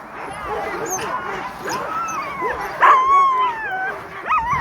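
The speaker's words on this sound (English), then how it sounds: "Dogs are getting fired up now." Fired-up huskies in a sled dog team at the start of the Knik 100 race in Alaska yip, whine and bark in rising, uneven bursts, with a person talking over the excited dogs.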